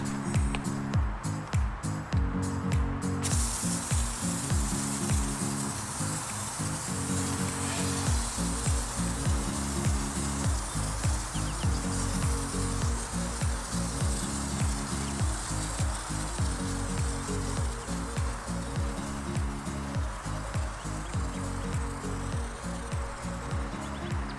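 An IK Foam Pro 2 pressurized sprayer puts out bike cleaner foam in a steady hissing spray at close range, with a rough, fizzy texture and faint clicking at the start.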